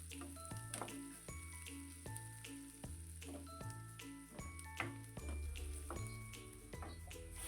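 Chopped onion with salt sautéing in a pan for a soybean curry, a steady close sizzle and fry running throughout with small stirring clinks.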